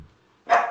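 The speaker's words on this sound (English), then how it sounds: "Just a second, my dog's barking." A pet dog named Snow lets out a sharp, loud bark close by, bursting from near silence and ringing briefly.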